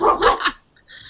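A dog named Hurley lets out a quick pair of sharp, loud barks close by, followed by a brief quieter yip as it settles.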